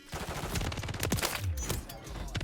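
Rapid gunfire from Modern Warfare 3 crackles in a dense burst of close, sharp shots with a few heavier reports, no talking heard.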